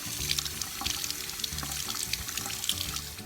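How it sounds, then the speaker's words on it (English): Water runs steadily from a kitchen tap while peaches are washed under it, with a continuous splashing rush and small irregular splatters as the fruit is turned in the stream, with no one speaking. "So I'll wash each peach, get all that yucky fuzz off."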